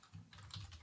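Quick, light keystrokes on a computer keyboard while writing a short line of Python code, soft clicks in an uneven rhythm, close and faint, with no talking.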